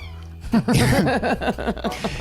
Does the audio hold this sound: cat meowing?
yes